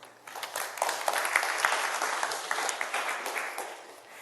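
Audience applause welcoming panelists at a live panel discussion on spasticity after spinal cord injury, a dense steady clapping that swells quickly and holds loud and even for about four seconds with no voices.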